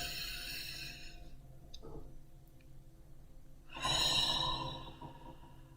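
A slow, deep breath in during a relaxation exercise, a soft airy rush swelling near the mic and then fading, with a faint shorter breath before it.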